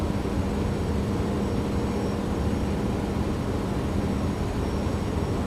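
The engines of a Boeing 737-600 roar during a go-around in the X-Plane 11 flight simulator, a steady broadband jet rush holding even and moderately loud throughout with no voices.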